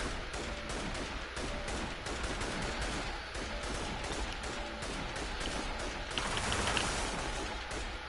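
Dense, continuous gunfire from a firefight in the video game Infamous Second Son, with rapid overlapping bursts filling the whole stretch and a louder crash of noise near the end; no talking.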